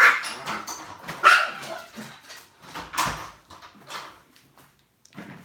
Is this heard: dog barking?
yes